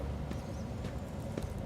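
Footsteps approach in the video game Rogue Trader, with a few soft, spaced thuds over a constant low ambient hum.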